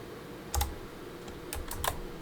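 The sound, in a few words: typing on a computer keyboard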